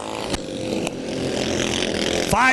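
Racing lawnmower engine at Laird Raceway, a steady buzzing drone that holds throughout, a couple of sharp transients breaking in and a rising whine near the end.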